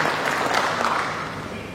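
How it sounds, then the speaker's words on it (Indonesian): An audience at a regional government meeting in Papua bursts into brief, dense applause, steady clapping from many hands filling the room for under two seconds. "mari kita berikan aplaus juga"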